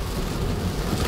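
Heavy rain falling during spring break, a dense, loud, steady hiss and patter with a low rumble beneath and no talking.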